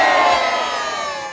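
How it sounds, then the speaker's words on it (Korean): A crowd of over 200 Korean Americans gathered at the Friendship Bell in Los Angeles for Liberation Day shouts manse cheers together, a loud sustained roar of many voices fading slightly. "200명이 넘는 한인들이 우정의 종각에 모여 다 함께 만세를 외쳤습니다"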